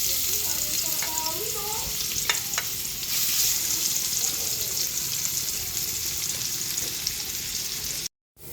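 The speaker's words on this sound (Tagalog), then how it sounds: "Pinirito na natin yung taba." Pork fat frying in a pan, a steady loud sizzle and crackle that runs throughout, with a few brief clinks near the start and a short cut to silence near the end.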